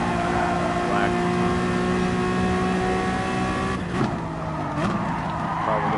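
A Honda NSX GT3 race car in Gran Turismo Sport holds a steady high engine whine at speed, its pitch dipping briefly around a gear change or corner before climbing again, loud and continuous with no talk.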